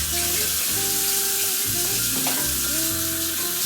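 Omelet frying in a small pan, a loud continuous sizzle and crackle with faint tonal whines from nearby appliances running under it, close and steady throughout.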